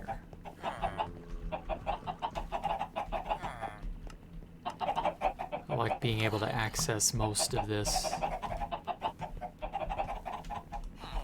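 Minecraft chickens clucking in repeated short bursts, a cluster of fowl sounds with a dense flurry midway, while someone talks over them.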